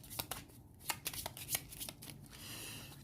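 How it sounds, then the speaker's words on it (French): A discard pile of playing cards riffled and shuffled by hand in a card game, a quick run of soft crisp flutters and taps, close and fairly quiet, with no talking. "je remélange ma défausse pour piocher 3 cartes supplémentaires"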